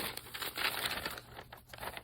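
Sheets of newspaper handled and crumpled up into a wad by hand, a continuous close crinkling and rustling with uneven bursts of crackle, fairly loud with no talking.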